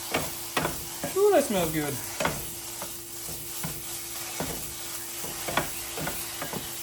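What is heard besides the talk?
stirring provolone into sizzling cheesesteak meat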